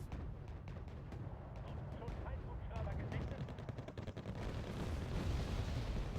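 Artillery bombardment in the war game Wargame AirLand Battle, heard as a dense run of rapid sharp impacts and low rumbling bursts that carry on steadily throughout, with muffled voices mixed underneath.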